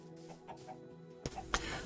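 Chickens in a Minecraft Bedrock auto-cooking chicken farm give soft, scattered clucks at low level, with a denser burst of game sounds in the second half.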